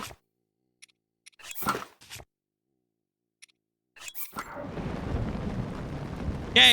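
Thunderstorm in the video game Tears of the Kingdom: sparse sharp cracks and bursts, then a building wash of rain-like noise with a final loud crack at the end.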